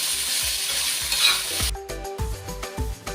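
Bitter gourd is stirred and sautéed with cumin in hot oil, a steady sizzle broken by repeated scraping strokes of a spoon against the pan. It is close and alone, with no talk.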